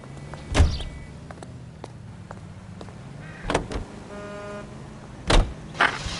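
Car sounds from the video game L.A. Noire: a low vehicle rumble runs underneath, broken by three sharp, loud door-like thumps and clunks spaced a couple of seconds apart, with a brief mechanical whir in between.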